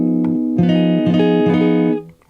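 A clean electric guitar chord fingered at the 9th fret, including the B string, rings out and is restruck a few times in a gentle rhythm before fading, heard alone and up close.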